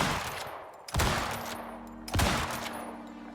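A rifle in the survival game Icarus fires off a whole magazine as two loud, sharp shots, each followed by a long ringing decay, close and prominent.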